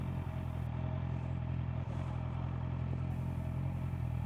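A Honda CBR650R motorcycle with E-clutch pulls away, its engine a steady close mid-pitched drone with a faint rise throughout, no voices.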